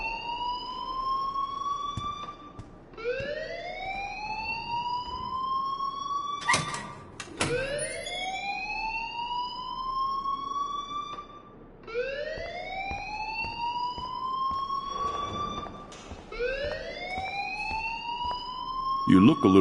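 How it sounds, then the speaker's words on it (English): In the Life Is Strange video game, a wailing alarm repeats in rising, swooping tones over and over, loud and insistent, with bursts of beeping and a voice speaking partly under it. "please turn off that alarm since that's your job"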